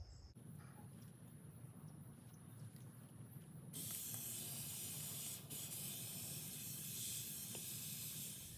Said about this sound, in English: And all I'm trying to do is slowly saturate the pot here. So I'll do a little watering.